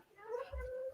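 A house cat gives a single short, close meow, rising and then holding its pitch, with a bump of background noise underneath.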